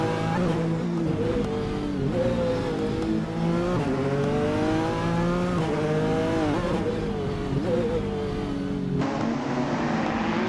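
A Porsche 919 Hybrid race car roars steadily through a racing video game, its engine note climbing and falling through gear changes with faint tire noise, loud and continuous throughout.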